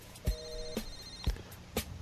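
Several telephones ring with incoming out-of-area calls during a call-in phone show, bright electronic rings sounding in short bursts about every half second, layered and overlapping, with no one talking.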